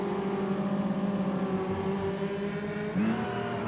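Race cars in Automobilista 2 during a close championship-deciding battle, engines droning at steady high pitch, then a sudden shift near the end as one car changes gear, heard without talk.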